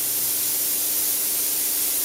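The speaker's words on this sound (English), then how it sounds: "You can still hear the steam still running, the group still running" Steam from a traditional espresso machine's wand rushes in a loud, steady hiss, continuous and unbroken with a faint hum underneath and no voices.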